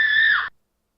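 A short, high, sustained scream from a replayed meme clip, loud and close, cutting off abruptly after half a second into silence.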